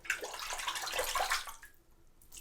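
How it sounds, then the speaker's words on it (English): A shaving brush swished and agitated in a basin of water, giving a busy splashing, sloshing wash of sound for about a second and a half before fading to quiet trickles. "I'm going to agitate this in the water a little bit"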